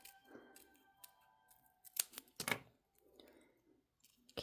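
Scissors snip through Color Street nail polish strips, several sharp separate cuts spaced unevenly over a few seconds, close and clear in a quiet room with faint handling rustle between cuts.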